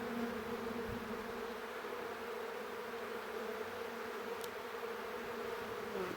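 Bees buzz continuously at a beehive, a dense, steady drone that is close and even throughout, with no voices.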